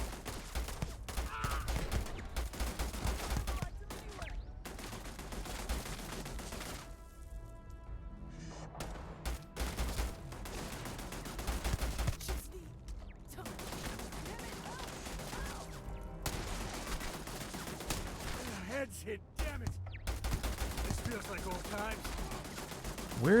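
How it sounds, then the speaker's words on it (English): Turret gunfire in the sci-fi shooter Starfield, a mostly bullet-based weapon: loud bursts of rapid automatic fire rattle on and off, broken by brief pauses, with a voice talking intermittently underneath. "Where's the machine? Oh, it's a turret."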